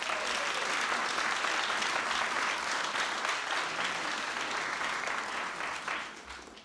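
An audience at a Brooklyn stamp unveiling for Shirley Chisholm applauds, welcoming Reverend Al Sharpton to the stage, a dense, sustained crowd of clapping that holds steady, then tapers off near the end.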